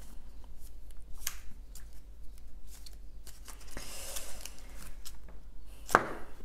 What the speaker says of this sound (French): Je vais mélanger votre deck.